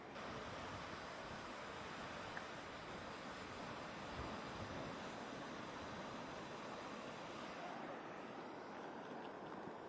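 Strong, steady wind roaring at the San Diego coast during Hurricane Hilary, a dense unbroken rush buffeting the microphone with surf-like noise throughout, loud and constant.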